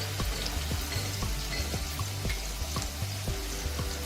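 Garlic fries in hot oil with a dense, even sizzle, moderately quiet, while music plays along underneath.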